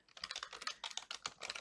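Rapid clattering keystrokes on a computer keyboard, close and crisp, in an uneven burst of taps with no talking.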